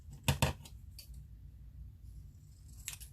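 Scissors snipping around a paper faux stamp at a desk, with two sharp close cuts early on, then a few lighter snips and rustles, the last near the end, all fairly quiet.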